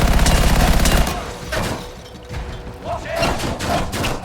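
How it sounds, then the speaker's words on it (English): Minigun blazing in the game Anthem, a dense rapid burst of loud rattling gunfire for about a second, then scattered thumps, clanks and mechanical impact noises continuing at a lower, uneven level. "Look out, I get the minigun."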